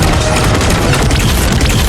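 An ion cannon blast from a sci-fi weapon unleashes a massive explosion, a dense, continuous roaring rumble that stays loud and steady throughout with no talking.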